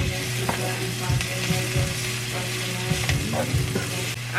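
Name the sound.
chopped garlic frying in a pan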